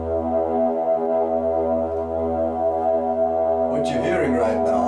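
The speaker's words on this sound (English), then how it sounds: "I put this together with a little synthesizer, so basically what you're hearing is E." A small synthesizer holds a steady drone on the note E, its stacked harmonics sustaining evenly throughout, with a brighter, busier layer of sound entering near the end.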